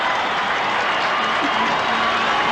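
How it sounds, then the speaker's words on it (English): A big rugby league crowd at a 1989 Balmain versus Penrith match gives a steady ovation as a player is replaced, with continuous applause and cheering and a commentator's voice faint underneath. "Michael Neal replaced to another great ovation from this terrific crowd"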